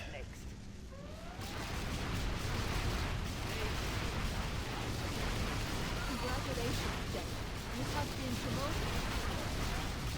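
Buildings blowing apart in the real-time strategy game Command & Conquer: Generals Zero Hour, a dense, continuous rumble of blasts and rattling gunfire that swells after the first second and stays loud throughout, with a voice talking over it.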